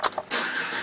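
A Chevy Avalanche truck engine cranks with a few short clicks, then catches and settles into a loud, steady running roar.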